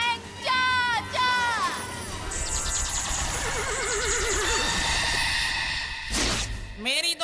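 A horse gives two loud whinnies in quick succession near the start, in a children's fantasy cartoon scene. Whooshing magic effects and music follow, with another short neigh at the end.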